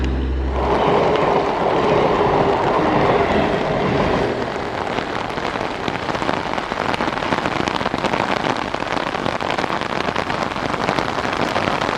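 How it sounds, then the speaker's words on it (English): Heavy rain pours down steadily, a dense broadband hiss of drops drumming on surfaces that swells in intensity and continues unbroken throughout, with no voices. "It started to rain and the intensity kept on increasing."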